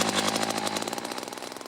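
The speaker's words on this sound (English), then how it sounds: "I drilled a hole through 2 feet of ice" An ice auger drilling a hole through two feet of ice while ice fishing. It makes a loud, close, rattling engine drone with rapid rhythmic pulses and runs steadily on its own.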